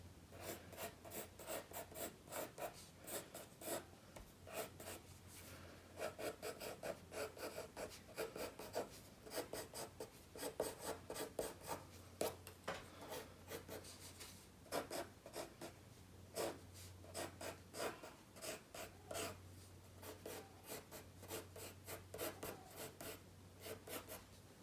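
Pencil sketching a sunflower guide onto a vase, dry scratchy strokes rasping in quick irregular bursts, close and quiet, steady over a low background hum with no talking.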